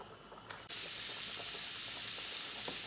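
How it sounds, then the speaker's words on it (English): Bacon frying in a pan for a traditional Dutch dish, giving a steady, loud broadband sizzle that jumps up sharply after a brief quieter start and then holds continuous. "we're gonna fry the bacon for like 5 to 7 minutes"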